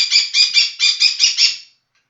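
Afra, a pet bird, gives a run of seven shrill, rapid squawking calls, loud and close, lasting under two seconds before stopping abruptly into silence.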